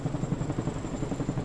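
A big green twin-rotor Chinook helicopter hovers over a beach in a dramatized scene, its blades thudding in a steady rapid rhythm beneath a continuous low engine drone, close and fairly loud, with no voices.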